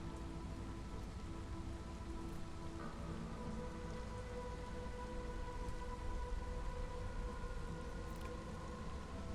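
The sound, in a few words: rain of a storm in the video game Against the Storm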